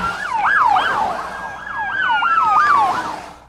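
A loud emergency vehicle siren wails in rising and falling sweeps, a close, continuous undulating tone with a second steadier siren layer underneath, no talking.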